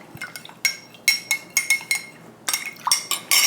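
Gin cocktail being stirred and mixed at a home bar, a quick run of bright clinks of ice against glass in uneven bursts, close and crisp with no talking.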